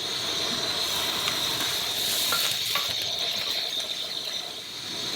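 Butter sizzles and hisses steadily in a covered pan on a camp stove in the desert, a loud, continuous steamy hiss with a few faint clicks, easing off slightly toward the end.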